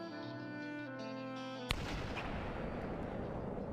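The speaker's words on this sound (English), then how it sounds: "That is a silenced pistol." A single suppressed pistol shot in a video game lands as one sharp report midway, followed by a lingering noisy wash over a steady musical background.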